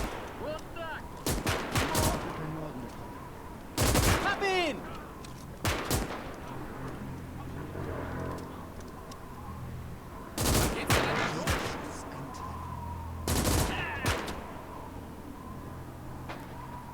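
Gunfire in the WWII strategy game Gates of Hell cracks out in several sharp, loud bursts and single shots spaced across the battle, with rumbling vehicle noise and distant fire between them.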